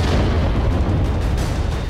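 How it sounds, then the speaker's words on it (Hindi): An explosion blast in Delhi early in the morning comes through as a loud, sustained broadband roar and rumble that fills the whole stretch with no quiet moment. "तेज धमाके की आवाज आई"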